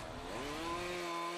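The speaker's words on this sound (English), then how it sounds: "Tree surgeon Glenn Conway uses a chainsaw at work" A tree surgeon's chainsaw runs close by, its engine pitch rising quickly and then holding at a steady high whine.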